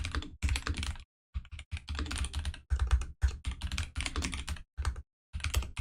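Quick bursts of typing on a computer keyboard, clustered keystrokes separated by short pauses, close and fairly quiet with no talk.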